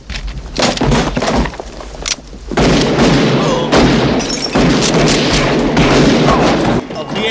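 Shotgun blasts from the Western Unforgiven (1992): loud, booming reports with crackling tails, one after another, amid a tense, reverberant film soundtrack with voices mixed in.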